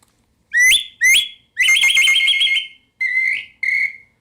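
An ancient Mexican flute plays five bright, shrill whistling notes, two short sharp blasts followed by a longer warbling trill and two shorter sustained tones, loud and close in an otherwise quiet setting.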